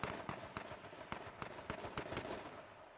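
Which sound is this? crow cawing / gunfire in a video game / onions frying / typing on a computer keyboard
gunfire in a video game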